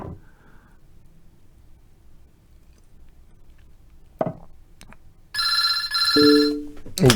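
A telephone rings during a blitz chess game: a few scattered knocks, then a short bright electronic ring burst and a lower tone near the end, loud against a quiet room, with no talk.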